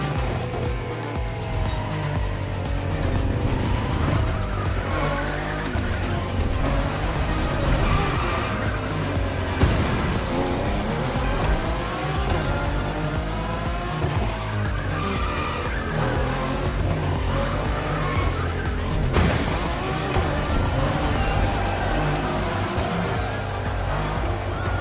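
A race car in The Crew Motorfest roars continuously through a lighthouse corner, its engine droning loud and steady while tires squeal and skid throughout, with no voices over it.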